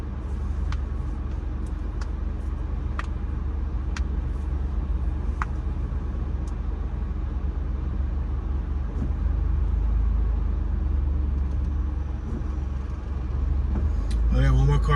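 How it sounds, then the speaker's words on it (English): Cars and a school bus passing on a two-lane road in Savannah, Georgia, heard from inside a vehicle as a steady loud traffic rumble with swells of passing vehicles. "I gotta wait, there's a lot of cars. Plenty of traffic, both lanes."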